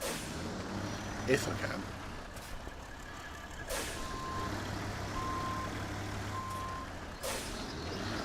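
In the Snowrunner video game, a truck reverses with a steady reversing beep under a rumbling engine, with hissing bursts scattered through while someone talks over it.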